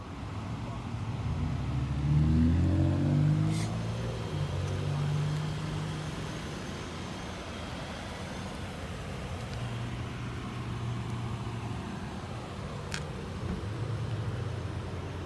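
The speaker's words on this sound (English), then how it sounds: "Now I'm going to drive home very carefully" Car driving home after being rear-ended, a continuous low engine drone and road rumble heard from inside the cabin, steady and moderately loud with slight swells in engine tone.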